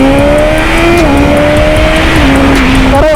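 A 2022 BMW S1000RR motorcycle engine runs loud and close at high revs, its steady tone dipping and shifting slightly as the throttle changes.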